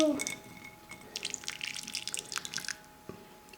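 Hot water slowly drips onto a circle of candy, giving soft irregular drips and small splashes that come close together, with a faint voice underneath.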